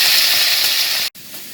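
Halved hot dogs fry in a pan, giving a close, bright, continuous sizzling hiss that drops out for a moment and then comes back more quietly.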